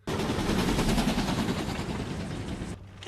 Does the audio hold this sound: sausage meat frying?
no